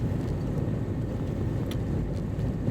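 Steady low engine and road rumble from inside a car being driven, continuous and even throughout with no talk.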